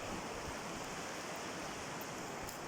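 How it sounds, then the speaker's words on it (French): A river flowing outdoors gives a steady, even rush of water, constant and unbroken throughout, with no voices. "Je viens me ressourcer au bord de la rivière"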